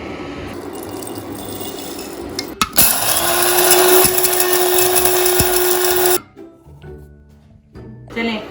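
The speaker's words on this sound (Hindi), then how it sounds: "यहाँ पे मेरे पास हाफ टी स्पून सौंफ है, फनल सीड। अब आपने इनको क्रश कर लेना है।" Fennel seeds being crushed in a kitchen appliance, a loud steady grinding whir lasting a few seconds that stops abruptly, followed by quieter clatter.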